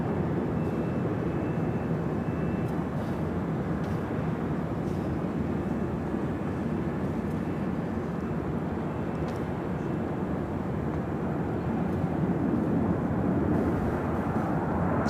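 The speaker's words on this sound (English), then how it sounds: "Next takeoff here on the south side is United Airlines Flight 1897 heading to Denver, Colorado" A United Airlines Boeing 737-900ER takes off from the south side at LAX, its engines producing a loud, steady roar that holds for the whole stretch and swells slightly toward the end.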